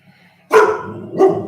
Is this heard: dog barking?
yes